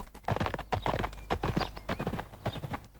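A horse gallops off with rapid, rhythmic clip-clopping hooves, loud and close, the beats coming steadily throughout.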